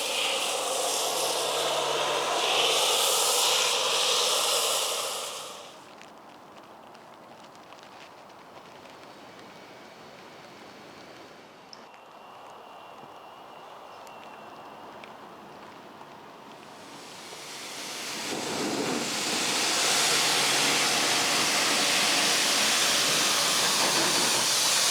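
A pressure washer sprays a strong hissing jet to rinse snow foam off a very dirty daily-driven BMW M3, loud at the start and end with a quieter stretch between.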